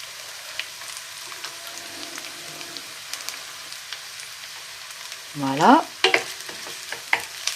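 Onions and ginger fry with a steady low sizzle in a pan, soft stirring scrapes and clicks running throughout, and a brief spoken word near the end.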